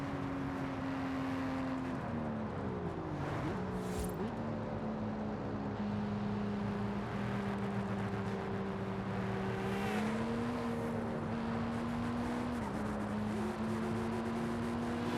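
A car in Forza Horizon 5 cruising a road through tunnels and over a bridge, its engine droning steadily with pitch rising and falling through gear changes, loud and continuous with no voices.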